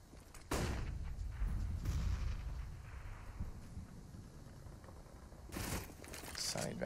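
Gunshots and a grenade blast during a competitive CS:GO match on the Cobblestone map, with a sharp burst near the start and another near the end over steady game ambience, under a caster's commentary.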